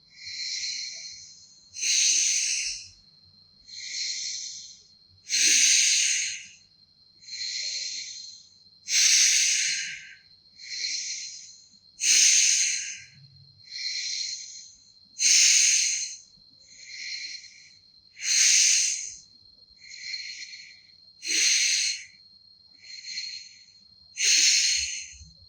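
Accelerated qigong breathing exercise with forceful exhalations: about fourteen rhythmic, breathy bursts about every two seconds, close and steady, with no talking.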